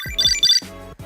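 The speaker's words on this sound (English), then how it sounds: "your Tile will ring." A Tile Mate Bluetooth tracker rings with a short, bright electronic chirping melody, two quick tonal bursts close by with a brief gap.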